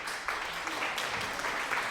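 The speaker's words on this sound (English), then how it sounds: "Here's a little of applause." A short burst of applause from a sound effect, steady clapping from a small crowd filling the whole moment at moderate loudness.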